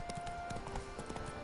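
Hooves of a white horse clip-clop in The Witcher 3, a quick, soft rhythmic patter of steps, faint and brief beneath game ambience.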